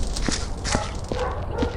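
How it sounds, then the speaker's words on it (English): Dogs barking repeatedly in a noisy background, several sharp barks spaced roughly half a second apart over a constant loud hum, moderately near. "I hate my dogs."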